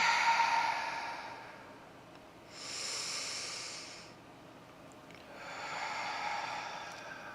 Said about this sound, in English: take a couple deep breaths here